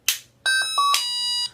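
A Menvier wireless doorbell plays its first chime: a bright electronic tune of several ringing tones, clear and close in a quiet room.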